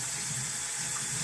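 Tap water runs steadily into a sink, rinsing a part clean with a continuous broadband splashing hiss and no voices.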